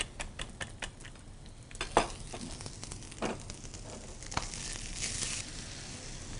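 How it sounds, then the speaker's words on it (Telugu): Beaten egg sizzles in a hot pan while making a Spanish omelette, a steady frying hiss with scattered clicks and scrapes of a utensil against the pan. "మనం ఏదైతే బాగా బీట్ చేసుకున్నామో ఎగ్ అది దాంట్లో వేసేయాలి ప్యాన్లో"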